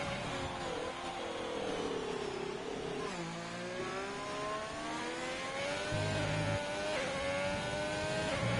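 A Formula 3 race car revs hard out of the final oval turn onto the front straight, its engine note climbing steadily through gear changes with brief dips between shifts, loud and close as if from onboard.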